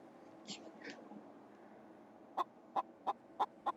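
Chicken in a VR game clucking softly twice, then a run of five sharp, evenly spaced cluck bursts, fairly close and clear over a low background hum.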